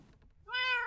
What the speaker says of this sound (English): why are my kitty cats ocelots?